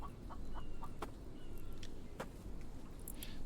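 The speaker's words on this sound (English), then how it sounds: "That bird up there then, I wonder what the hell that was." In the survival game The Infected, a bird gives short, faint clucking calls in a few scattered bursts over a steady low ambient rumble.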